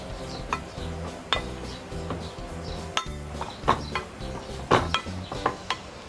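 Boiled potatoes being mashed in a pot with a masher for a water-based cabbage kimchi base, irregular metallic clinks and scraping knocks against the pot, moderately close, no talk.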